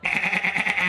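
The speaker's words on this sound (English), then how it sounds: "Sounds like a goat." A goat bleat fired from the goat gun in Fortnite, one short, loud, wavering bleat close up, alone.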